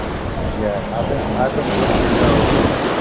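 Steady ocean surf on a Gulf beach, a continuous broad wash of waves under wind noise buffeting the microphone, with a brief voice speaking over it.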